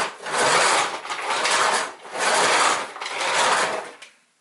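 Hoover WindTunnel U6485900 self-propelled vacuum cleaner, switched off and pushed back and forth across a floor, giving four loud, close rolling scrapes in an even rhythm, with no talking.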